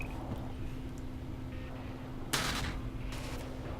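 Spaceship guns firing in the video game Eve Online, a couple of bright, broad blasts rising out of a steady engine hum, moderately loud and spaced about a second apart.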